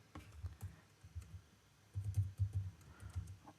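Code for an Angular app is typed on a computer keyboard, a close, fairly quiet run of irregular key clicks that bunch into quicker bursts toward the end, with no voices.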